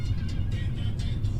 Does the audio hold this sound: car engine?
yes